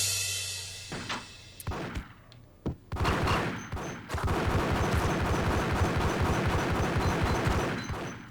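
Gunfire in the video game Max Payne, a few separate loud shots followed by a dense, sustained burst of rapid automatic fire that fills the rest of the stretch at close range.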